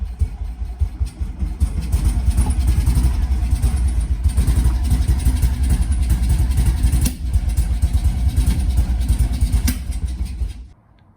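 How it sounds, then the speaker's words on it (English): Small single-cylinder engine of a barn-find BMW Isetta idling after 35 years unused, running rough and rapid with uneven pulses, loud and close, then cutting out near the end. "It'll start right up and it'll idle, but I can't give it gas or else it stalls out."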